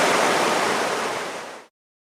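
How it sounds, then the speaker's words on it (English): A waterfall's steady, loud roar of rushing water fills the air evenly, then cuts off abruptly after under two seconds. "There's the waterfall,"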